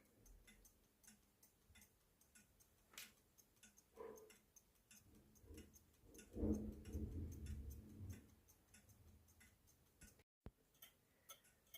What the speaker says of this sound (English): this is officially the quietest clock ticking noise that I've ever heard